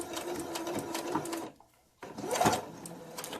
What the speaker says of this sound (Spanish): vamos a coser por todo el borde